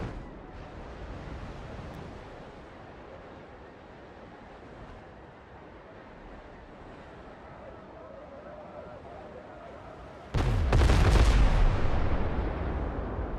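Gunfire in the pirate-themed game Windrose, a loud burst of shots and booms striking suddenly near the end after a long stretch of low, roaring wind-and-surf ambience.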